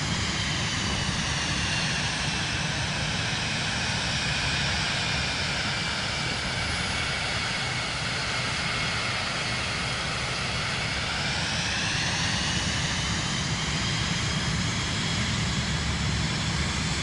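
Aircraft engine in Microsoft Flight Simulator 2024 on PS5, a continuous loud droning roar with a slowly shifting harmonic whine, steady throughout with no talk.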